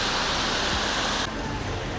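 Water pours steadily over rocks at a waterfall in a close, continuous rushing roar. The broad hiss shifts slightly in tone partway through and never pauses.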